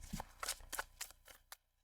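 A tarot deck is shuffled in two quick riffles, giving a series of soft, close papery flutters and snaps that end in a final tap, then quiet.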